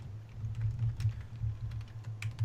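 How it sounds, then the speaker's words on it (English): Soft, rapid keystrokes on a computer keyboard, irregular clicks running steadily over a low background hum, fairly quiet and close. "You typing notes?"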